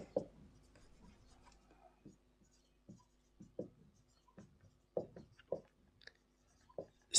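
A pen scratches on paper while working out a math proof, with soft irregular strokes and taps in short bursts, faint and close, with no talking.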